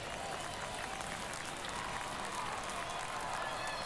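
A stadium crowd in the baseball video game MLB The Show 23 roars and applauds steadily during a tense ninth inning, a dense, continuous wash of cheering with no breaks.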